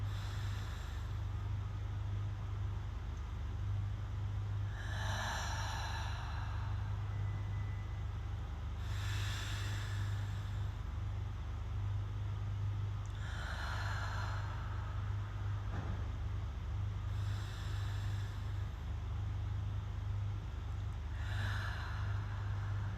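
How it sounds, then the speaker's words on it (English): Slow, deep breaths drawn in through the nose during a breathwork exercise, four or five long hissing inhales spaced several seconds apart over a low steady hum, close and fairly quiet. "Immediately bringing breath in deep through our nose."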